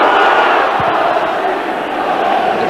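Crowd noise at a 1995 football match between Sunderland and Spurs, a steady loud roar of many voices filling the stadium with a brief thump partway through.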